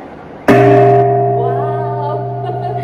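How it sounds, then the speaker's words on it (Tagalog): A gong struck once in Intramuros rings out with a sharp attack, then a loud, sustained metallic hum with steady low tones that slowly fades over a few seconds, heard close up with no talking. "Magpatunog ng gong."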